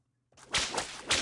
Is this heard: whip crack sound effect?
yes